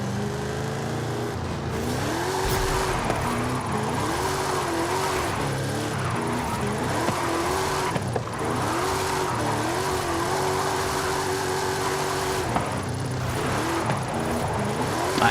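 A Ford Crown Victoria Police Interceptor drifting in Forza Horizon 5: the engine drones and revs in steady rising and falling waves, with tire squeal running under it throughout and brief shifts in pitch.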